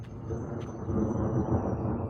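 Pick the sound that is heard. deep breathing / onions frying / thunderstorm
thunderstorm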